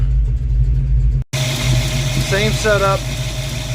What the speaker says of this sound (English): This is probably the best example I can show you of the car shaking and shuddering.